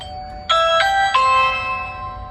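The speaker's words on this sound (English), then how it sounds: "The mechanical chime went off immediately after I pressed the doorbell" Mechanical doorbell chime set off by a Ring Video Doorbell Pro 2 strikes three bright tones in quick succession, the last one ringing out and fading in a quiet room.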